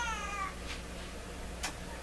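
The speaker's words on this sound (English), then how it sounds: "didn't I say something about cats not coming in here today?" A house cat meowing indoors near a tube radio workbench, one drawn-out, rising meow at the start followed by quieter faint sounds over a low electrical hum.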